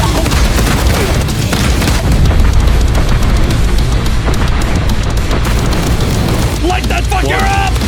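An autocannon firing and explosions in the video game Helldivers 2 make a loud, continuous barrage of heavy booms and rumbling blasts, with a voice briefly rising over the din near the end.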